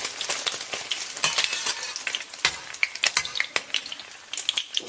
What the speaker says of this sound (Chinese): 咱们把鸡蛋下到锅中